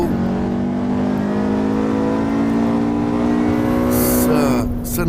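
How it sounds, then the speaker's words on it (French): An Alfa Romeo Giulia Quattrofoglio engine in Assetto Corsa Evo drones steadily and loud throughout, holding a rising, strained pitch that swells near the end before easing slightly. "Voilà, Alfa Romeo Giulia Quattrofoglio."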